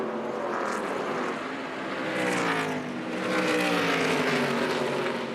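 ARCA Menards Series stock cars racing at Dover Motor Speedway, a loud, continuous engine roar with shifting pitch as several cars run close together, swelling slightly as they pass.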